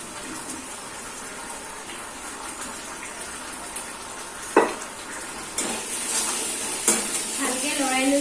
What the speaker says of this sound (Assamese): ভালকৈ লৰাই লৈছোঁ।